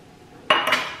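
A small silver children's cup is handled, giving a sudden bright metallic clink and clatter partway through, followed by a second ringing contact after near silence.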